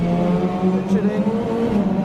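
Touring race car engine, Australian TCR, holding a steady loud drone as it shifts up to third gear onto the straight in the wet at The Bend Motorsport Park, with a voice talking over it.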